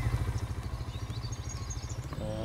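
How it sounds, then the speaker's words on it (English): The small engine on the back of a farm machine in Farming Simulator 19 chugs in a fast, even pulsing rhythm, moderately quiet and steady, before a brief higher mechanical whir near the end. "I love the little engine on the back."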